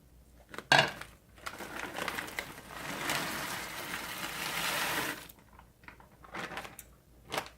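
Frozen vegetables and beans tumbling into a cooking pot, a sharp clatter followed by a sustained sizzling, rustling wash that fades after several seconds, with faint kitchen clinks afterward.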